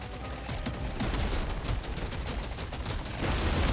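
Dense, sustained gunfire from weapons in Deep Rock Galactic: Survivor, including a shotgun, as a steady rapid barrage of overlapping shots that runs for several seconds and swells slightly louder near the end, with no voices.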